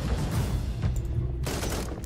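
Sustained rapid gunfire from an assault gunner in the Warhammer 40,000: Inquisitor game, a dense loud rattle of shots over a low rumble, with a sharper burst near the end.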